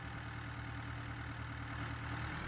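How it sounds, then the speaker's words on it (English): Claas tractor hauling a forage wagon in Farming Simulator 22, its engine running as a steady, low, throbbing drone, quiet and unbroken throughout. "there's the class tractor with the forage wagon"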